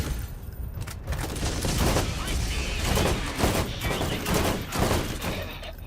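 Dense, continuous gunfire fills a chaotic firefight in Borderlands GOTY Enhanced, rapid shots and booming impacts piling over one another, loud and close with a voice faintly underneath.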